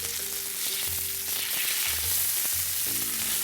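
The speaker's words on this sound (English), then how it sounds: "So I'm just going to brown the fish a little bit on each side." Columbia River king salmon browning in a hot pan gives a steady, close sizzle with broad hiss, and brief low rumbles and clicks come through as the fish shifts.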